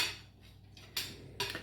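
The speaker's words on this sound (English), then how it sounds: "I'll chop off a piece of tomato pizza and give it a try" A knife saws through a tomato Margherita pizza on a plate, scraping softly, then two sharp clinks of the blade against the plate a moment apart, close and fairly quiet.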